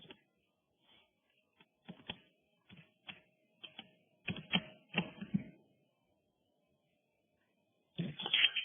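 Bursts of computer keyboard typing, quick clicky keystrokes in short irregular clusters separated by pauses, with a longer flurry near the end; close and fairly quiet, no talking.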